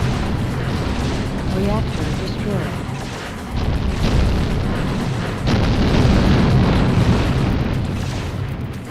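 A reactor blowing up in the video game Hellbender, a heavy booming explosion with rolling low rumble that swells in stages and stays loud throughout, with a voice talking over it.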